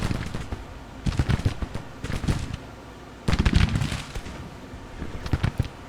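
Cannon fire from Civil War artillery shooting canister in the Grand Tactician strategy game, a ragged series of loud booming volleys with bursts around one, two and three-and-a-half seconds and a rolling crackle toward the end.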